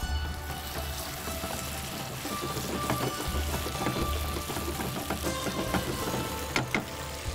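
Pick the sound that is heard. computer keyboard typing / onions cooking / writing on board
onions cooking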